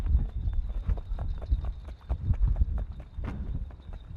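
Hooves of the Icelandic horse Kvika frá Leirubakka moving across a competition arena, a fast, steady run of dull thudding beats on soft ground, close and fairly loud with a faint background hum.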